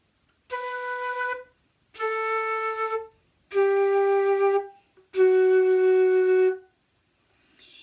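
A flute plays four separate held F sharp notes, each lasting about a second with short silences between.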